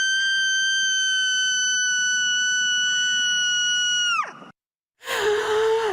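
A person's shriek from a played recording: one long, piercing, sustained high cry that holds steady for about four seconds, then slides downward and cuts off, followed by a brief silence and another harsh burst of shrieking.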